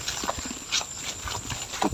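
Two water buffalo shift and step nearby on a farm, giving soft irregular hoof thuds and shuffles that fall into a loose clip-clop rhythm with no talk.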